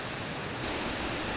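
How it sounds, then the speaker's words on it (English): Tahquamenon Falls on the Tahquamenon River roars as a steady, broad rush of falling water, dense and continuous with no talking over it. "Tahquamenon Falls, one of the largest waterfalls east of the Mississippi"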